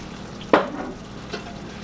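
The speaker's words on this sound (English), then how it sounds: "I'm going to mix this all around, and I'm going to let this cook for, she says, for 5 to 7 minutes" Sauce with Worcestershire and mustard is stirred in a pan: a single scraping sweep of the spoon, then a fainter second stroke over a low steady simmer, with no voices.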